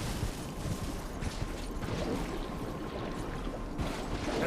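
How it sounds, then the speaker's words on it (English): Poisonous water flowing in Elden Ring, a continuous rushing, churning wash of liquid that stays fairly quiet and steady throughout, with no voices. "Water sounds nasty."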